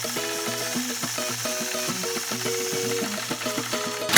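A quilting sewing machine stitching a point-to-point curve, running with a steady rapid mechanical whir and regular needle rhythm throughout, close and moderately loud with no speech.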